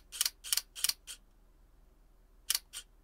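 An SLR camera's shutter curtain snaps down and up in crisp, close paired clicks, several quick releases, a pause, then one more pair, in a quiet room.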